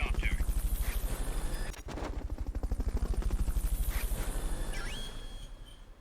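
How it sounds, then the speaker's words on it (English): Fulton recovery helicopter in the video game Metal Gear Solid: Peace Walker, a rapid rhythmic rotor chop thudding steadily and loud, briefly dipping then resuming, with faint electronic game tones and chirps over it. "Fulton recovery helicopter is complete."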